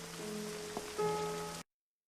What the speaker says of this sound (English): Crazy guy on a park bench talking to himself in the rain.